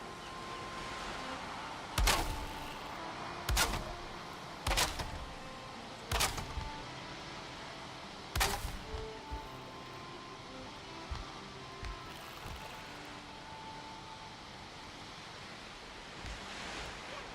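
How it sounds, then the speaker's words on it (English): Ocean waves roll in against a wooden dock in Valheim, a steady soft surf wash broken by several sharp louder crashes or hits early on, then settling into quieter lapping, with no voices. "The water line really rises when the waves are coming in."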